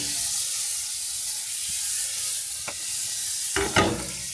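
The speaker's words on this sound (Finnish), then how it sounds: "Lisätään pannulle pieni pala, tässä tapauksessa oivariinia," Margarine (Oivariini) melts in a frying pan with a steady, even sizzling hiss and a couple of brief clinks and scrapes near the end.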